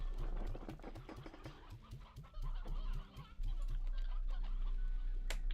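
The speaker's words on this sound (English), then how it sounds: "It's a mosh pit of chicken." Chickens in Slime Rancher 2 cluck in a fast, dense, rhythmic string of calls, several birds crowded together at close range over a steady game background hum.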